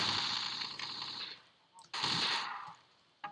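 Rapid gunfire from a powerful shotgun in the first-person shooter Marathon: Squadron. It comes as a loud sustained burst, a short pause and a second burst, then a brief final blast.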